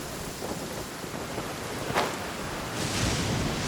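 Stormy weather in Genshin Impact: a sharp lightning crack lands near the middle over a steady wash of rain and rumble, then a broader surge of thunder and downpour swells toward the end.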